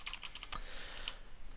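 Typing on a computer keyboard while entering text for a card template: a quick run of close, crisp key clicks with one sharper stroke, then a few scattered taps, no voices.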